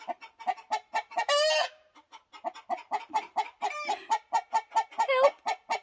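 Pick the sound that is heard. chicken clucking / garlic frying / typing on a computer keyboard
chicken clucking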